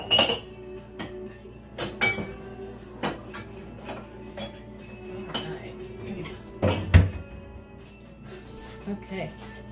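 A glass measuring cup clinking against jars and dishes while cabbage is canned in a home kitchen, a run of sharp separate clinks and knocks spread irregularly through the clip, with a person talking in between.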